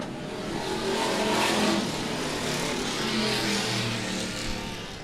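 Race cars roar through a heat race at Monett Motor Speedway, a dense, continuous engine drone with rising and falling revs as several cars pass, loud and steady throughout with no talk over it.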